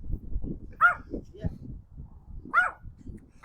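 A small Pomeranian and Yorkie mix dog gives two sharp, high yips about two seconds apart, close by, over ongoing outdoor chatter from several people.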